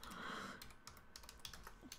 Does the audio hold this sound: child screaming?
no